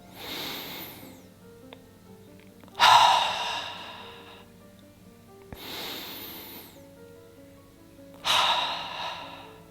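Slow deep breaths of a breathing exercise come in a calm pattern, with two strong exhales and softer breaths between them, close and unhurried with long quiet gaps.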